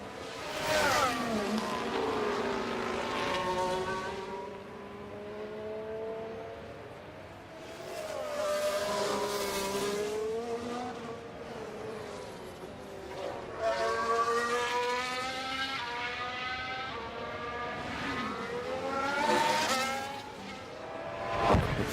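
Race cars lapping the Interlagos circuit in the F1 Manager 24 game, their engines rising and falling in pitch as they pass, loud and continuous, with no talking.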